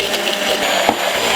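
A blender whirs steadily, emulsifying mayonnaise as vegetable oil goes in, a loud close motor drone with a brief thump partway through.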